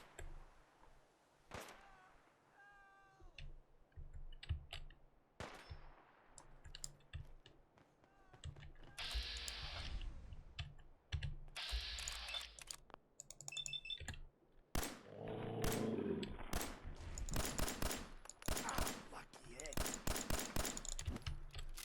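Gunfire in the video game Fallout comes in bursts of rapid sharp shots and single cracks, mixed with keyboard and mouse clicking, and someone talks over parts of it.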